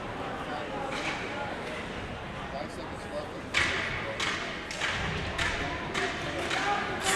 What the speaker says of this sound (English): the goaltender's banging a stick on the ice